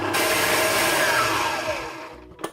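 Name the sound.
stand mixer whipping butter on high speed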